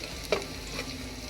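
Ingredients for sopas sizzle softly in a hot pan, a faint steady frying hiss broken by one small stir or clink.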